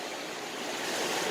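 A large river flowing downhill, fed from a source upstream, gives a steady broadband rushing wash of water, moderately loud and continuous with no voices.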